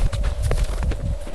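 A rescue horse ridden bareback, its hooves clip-clopping in a loud, close, steady walking rhythm with no voices.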